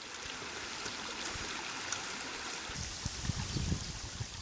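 Water flows steadily down a small stream where gold is panned, a close, even rushing and gurgling that runs throughout, with a few low splashes near the end.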